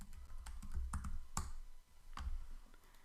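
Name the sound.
typing text on a computer keyboard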